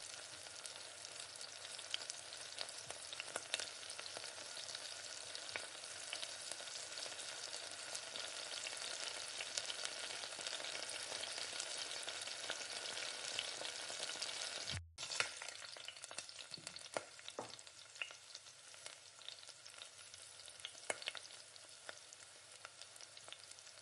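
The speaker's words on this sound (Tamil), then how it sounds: "இப்போ மேகி பவுடரை கொட்டி இந்த மாதிரி நல்லா மிக்ஸ் பண்ணிக்கோங்க" Masala Maggi noodles sizzle in a hot pan as Maggi powder is stirred through, a constant crackling fry with scraping stirs, broken by one brief cut midway, then continuing with occasional louder scrapes.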